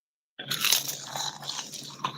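Crunchy seaweed snack chips bitten and chewed close to the microphone, starting abruptly after brief silence with sharp crisp crunches followed by quieter chewing and a final crackle.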